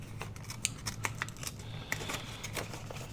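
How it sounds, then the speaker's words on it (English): Scissors cut a small piece of junk mail paper for a double-page craft layout, a quiet, close series of crisp snips and paper rustles over low room hum, with no talk. "I'm going to go ahead and cut this little piece off like I did on that other one"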